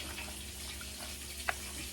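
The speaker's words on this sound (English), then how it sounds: "We're just going to go ahead and cover our beans with some water" Water pours steadily over beans and bacon in a crockpot, a soft continuous splashing stream with one faint clink.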